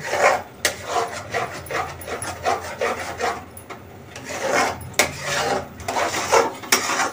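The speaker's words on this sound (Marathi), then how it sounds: "जोपर्यंत असा घट्ट गोळा नाही होत तोपर्यंत आपल्याला असं हलवतच राहावं लागेल" Thick besan katli mixture stirred in a pan until it firms into a dough, a close, repeated scraping and rubbing of the spoon against the pan in uneven strokes.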